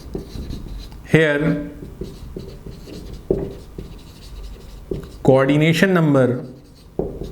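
Chalk or marker scratching on a classroom board during a chemistry lesson on close packing in crystals, short scraping strokes between and under a teacher's speech.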